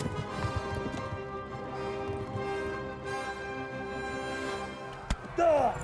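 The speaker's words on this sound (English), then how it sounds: "we are now in a mad dash for our lives on the back of a horse while having arrows shot at us" A horse gallops in the video game Kingdom Come: Deliverance during a frantic escape under arrow fire, its hoofbeats a rapid, continuous thudding beneath a dense layer of game music and ambience.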